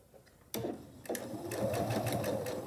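A sewing machine stitches a basket lining in short starts and then a steady run of rapid mechanical clatter, close and fairly quiet.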